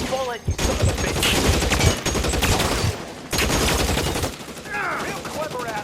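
Rapid bursts of automatic and pistol gunfire in the video game L.A. Noire, loud and continuous across a city shootout, broken by short pauses, with someone shouting under the shots.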